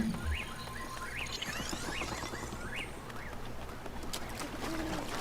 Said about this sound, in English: You hear the whippoorwill there, whatever kind of bird that is.